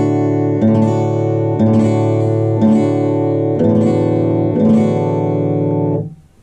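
Guitar chord with the third fret fingered on the B string, strummed five times at a slow, steady pace; each strum is loud and close and rings into the next before a final fade.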